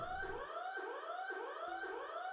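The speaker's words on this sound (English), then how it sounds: "The alarms are deafening." Rising, repeating alarm siren wails blare in SCP: Doki Doki Anomaly, a steady looping whoop about every half second with no voices over it.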